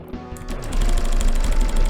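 Shooting at a Banzai Bill in the platform game I Wanna Be The Guy during a speedrun, a burst of bright retro shot effects that swells into a loud, dense, buzzing rumble of game noise and music, with no talking.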